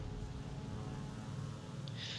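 A biplane's propeller engine in a video game drones steadily and loudly throughout, a dense continuous buzzing roar with no break.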